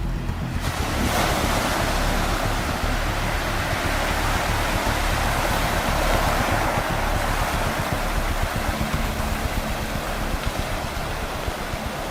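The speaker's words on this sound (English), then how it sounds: "seiches, which are basically water sloshing like it's caught in a giant bowl" Water surges and sloshes in a Norwegian fjord during a seiche flood, a steady, loud rush of churning water with wind noise across the whole stretch and no voices.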